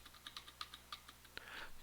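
Quick irregular clicks of fingers typing on a computer keyboard, close and fairly quiet, with a short burst of faster keystrokes near the end.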